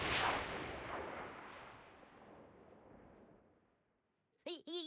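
A pyro bomb from South Park: The Stick of Truth goes off in a loud, booming blast that rumbles and slowly fades over several seconds, followed by a brief voice at the end.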